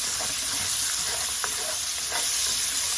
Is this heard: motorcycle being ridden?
no